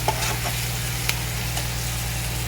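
Chopped leafy greens hit a hot frying pan after turmeric, giving a steady close sizzle over a constant low hum, with a few brief scrapes and clicks as they are stirred.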